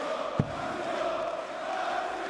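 A German darts championship crowd roars in a steady, dense wall of cheering and chanting, loud and sustained with a brief sharp knock near the start.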